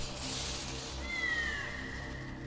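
A cat meows once in the video game Goblin Cleanup, a thin rising-then-falling cry set against a steady background of game ambience and music.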